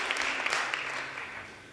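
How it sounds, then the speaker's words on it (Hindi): A congregation claps together in a church service, a steady wash of many hands that holds level for a moment and then begins to fade, with no one speaking over it. "Let's give a clap offering the Lord."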